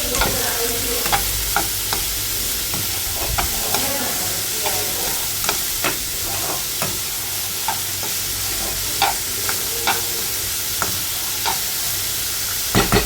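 Beans frying with salt in a pan while being stirred: a constant bright sizzle with regular sharp scrapes and clicks of the utensil against the pan, close and without speech.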